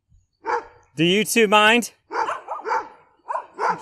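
Dogs barking repeatedly and loudly close by on a walk, a burst of barks under and between a man's speech.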